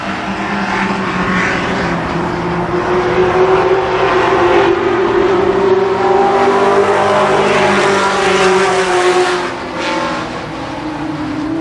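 Race cars at Kil Kare Speedway, a dirt oval, roar continuously through a late-lap stretch of a Memorial Day championship late model feature, the engine drone steady and loud with droning pitch swells, and the track announcer's voice running faintly underneath.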